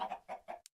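A Minecraft chicken clucks three quick times, close and clear, followed by a tiny high blip before silence.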